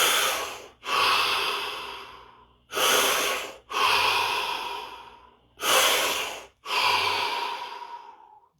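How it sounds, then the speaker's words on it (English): Three deep breaths, each a long inhale and a long exhale, slow and evenly spaced, close and clear in an otherwise silent room. "3 deep breaths"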